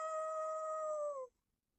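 A cartoon dog, Trusty, lets out a single long, tonal howl that holds steady and then drops away into silence, clear and close with no other sound.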